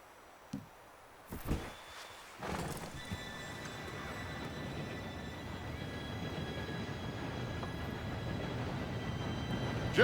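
A train pulling into a station in Red Dead Redemption 2, its rumbling rolling approach building steadily and growing louder over several seconds, with horse clip-clop and a whinny heard early on.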